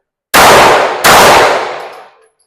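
Two sharp, loud pistol shots fired in quick succession from low ready during a defensive pistol drill, one body shot and one head shot, each ringing out with a decaying echo.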